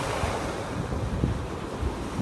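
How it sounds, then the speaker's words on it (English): Gulf of Mexico surf breaks on a shell-strewn beach in North Naples, Florida, a constant rushing wash of waves with wind buffeting the microphone, no voices. "these waves have really knocked them down and spread them out"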